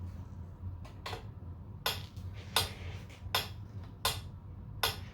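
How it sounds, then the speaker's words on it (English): Sparse metronome clicks set up for a beginner A major scale drill, sharp isolated ticks at an uneven spacing over a low steady hum, fairly quiet with no talking. "We're going to have on a metronome."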